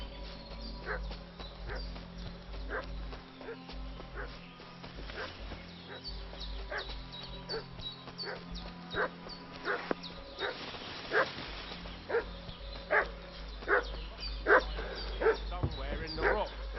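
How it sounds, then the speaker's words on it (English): A dog barks repeatedly in a medieval village in Kingdom Come: Deliverance II, with sharp yips and barks that grow louder and more frequent, layered over ambient game sound and a low drone. "What's that dog making such a fuss about?"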